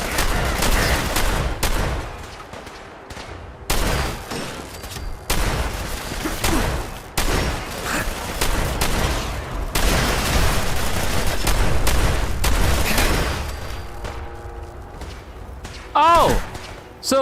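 Rapid gunfire in a Fallout 4 firefight, loud bursts of shots and booms repeating almost continuously with brief pauses, a voice talking over parts of it.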